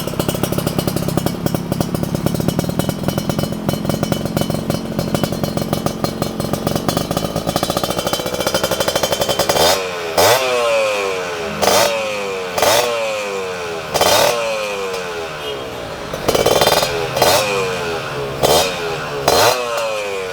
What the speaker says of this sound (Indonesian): kalau dia lagi stasioner atau lagi langsam kayak gini, ya siapa yang tahu kalau ini motor mesinnya Ninja ya kan?